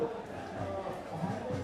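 A protest crowd gathered at Jantar Mantar in Delhi creates a dense, murmuring background of many voices and chatter, with speech in the foreground.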